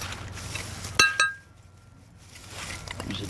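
Old glass bottles knock together as they are dug out of the dirt, two bright clinks close by, the second ringing out briefly over faint outdoor background noise.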